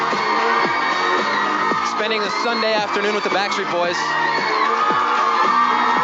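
Large crowd in Times Square at a Backstreet Boys appearance, whooping and cheering steadily throughout, with someone talking loudly over the crowd noise.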